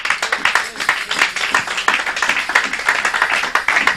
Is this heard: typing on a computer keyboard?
no